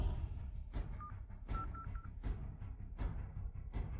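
A telephone number being dialed: a handful of short electronic keypad tones beep one after another over a low background hum, fairly soft and close.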